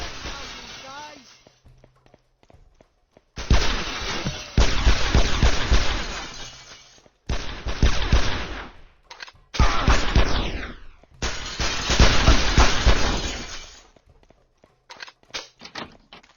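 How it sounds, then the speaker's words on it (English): Glass shattering under gunfire in the video game Mademan: several loud, crashing bursts of breaking glass mixed with shots, separated by short pauses, then a few smaller trailing breaks. "Shoot the glass houses, guys!"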